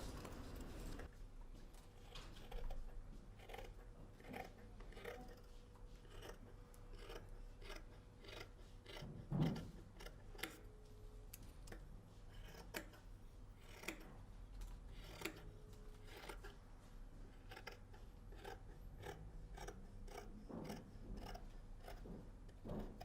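Scissors cutting through coat fabric while a stand collar is trimmed, giving a run of sharp, separate snips spaced irregularly across a quiet room, with one louder clip near the middle.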